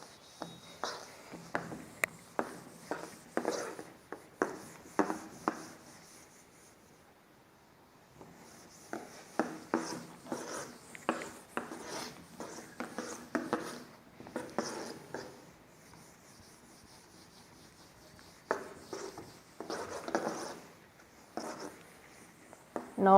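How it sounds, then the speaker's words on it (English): A pen scratching across paper while drawing a female reproductive system diagram, in bursts of quick strokes separated by short pauses, close and quiet. "Now we will draw the diagram of female reproductive system."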